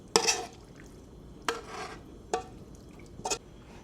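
Coated beef pieces being set into a bowl in a home kitchen, heard as a few soft separate clinks and wet scrapes spaced apart against a quiet background.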